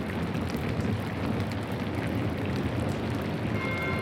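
Steady heavy rain in the video game Pentiment, a continuous dense hiss of falling water with a faint low rumble beneath, even and unbroken throughout.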